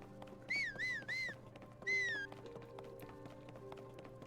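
A few short rising-and-falling whistles from Link in the Zelda: Tears of the Kingdom game, three quick notes followed by one longer one, heard faintly over a soft game ambience with light tapping.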